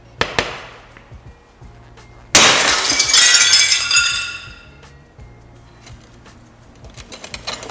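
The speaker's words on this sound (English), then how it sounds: "It's going to break in big shards." Annealed regular plate glass smashed, one sudden loud crash of breaking glass into big shards with a bright tinkling cascade that fades over a couple of seconds, preceded and followed by scattered taps and clinks.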